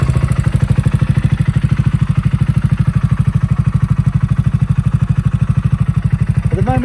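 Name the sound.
motorcycle engine running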